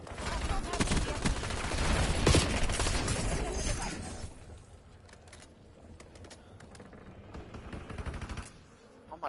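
Pistol shots in a Call of Duty Warzone match crack out in a rapid cluster of sharp reports, loud at first and then thinning into scattered quieter shots and game noise.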